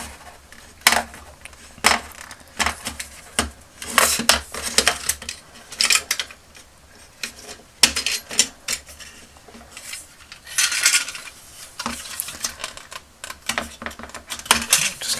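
Vintage Star Wars toy laser pistol being pried apart by hand, a busy run of close plastic clicks, snaps and rattling knocks in irregular bursts with no talking.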